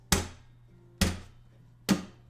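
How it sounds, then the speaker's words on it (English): Three sharp percussive slaps on acoustic guitar strings hitting the frets, evenly spaced about a second apart, each a bright muted thwack with a short decay. "just making sure I hit them hard enough so that the strings slap against the frets"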